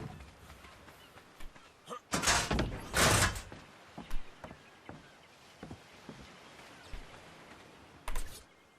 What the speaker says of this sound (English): Because they're the SS doors, they'll actually open and close for us